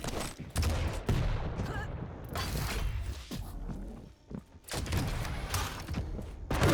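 Super shotgun blasts in a fast arena shooter duel, with several loud, close bursts separated by short gaps and clanking weapon mechanics, under game noise and occasional talk.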